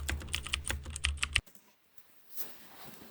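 HTML code being typed on a computer keyboard: a rapid, close burst of keystrokes lasts about a second and a half, then stops and leaves near silence.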